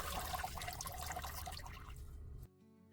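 Water pouring steadily through a potted plant's roots as perlite and dust are rinsed out, a continuous close splashing flow that cuts off abruptly near the end.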